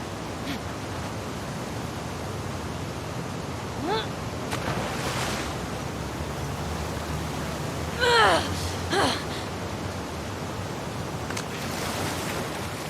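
Steady wash of ocean waves surrounds Ellie as she swims toward the aquarium in The Last of Us Part II, a continuous broadband surge with a few faint, brief chirping calls rising over it.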